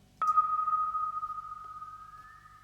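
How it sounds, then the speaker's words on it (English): A tiny, heavily reverbed synth preset from Reason in E flat: one bright, glassy sustained note rings out after a soft attack and slowly fades with a subtle upward shimmer, faint low pulsing beneath, no voices. "I've got a tiny little, very reverbed synth, just adding like a nice little kind of sparkly texture in the higher frequencies"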